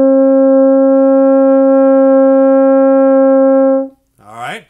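A French horn sustains the note G as one long, steady tone of about four seconds, full and even, played solo as a beginner's first note, followed by a brief burst of speech after it stops.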